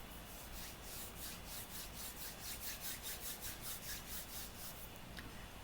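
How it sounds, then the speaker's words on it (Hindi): Hands rubbed briskly together during a quiet guided meditation, a soft steady friction hiss pulsing in quick regular strokes for several seconds, close and alone with no talk. "हाथ को आपस में रगड़िए"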